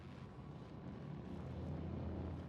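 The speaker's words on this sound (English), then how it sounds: "That's our engine." Spaceship engine in The Outer Worlds, a steady low rumbling drone with a faint airy hiss, quiet and unbroken throughout, no voices.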